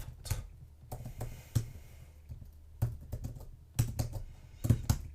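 Typing code on a computer keyboard, irregular bursts of crisp key clicks with short pauses between, close and clear with no voice.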